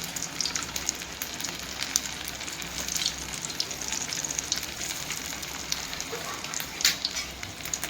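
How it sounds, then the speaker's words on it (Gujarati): Rice pakoda bhajiya deep-frying in hot oil, a steady soft crackle and sizzle with scattered sharper pops, fairly quiet and with no voices. "જ્યાં સુધી કડક ન થઈ જાય ને ત્યાં સુધી ફ્રાય કરવાના છે."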